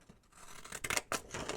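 Decal edge scissors picked up and snipped at paper for a junk journal, a few soft close crisp cuts and scrapes, quiet and without talk.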